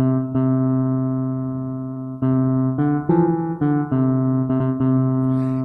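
A C note on an Estey keyboard sounds as a loud, sustained, organ-like tone, struck again several times in short bursts with slight shifts in timbre.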